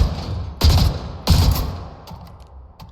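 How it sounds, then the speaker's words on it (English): Trident tri-shot burst rifle firing in the shooter game Spectre Divide: two loud, close three-round bursts about half a second apart, each with a sharp crack and a booming tail, followed by fainter clicks and clatter. "And the other gun here is your Trident. This is a tri-shot burst rifle."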